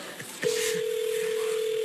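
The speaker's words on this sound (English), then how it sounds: "Oh, ringing. It's ringing." A telephone ringback tone on a call placed from a live TV talk show: a single steady, unbroken electronic tone starts abruptly and holds clearly, with no one talking over it.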